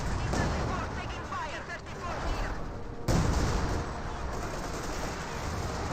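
Battle in the game Company of Heroes 2: dense bursts of machine-gun and rifle fire with a sharp blast near the middle, continuous and fairly loud, with a voice speaking over it.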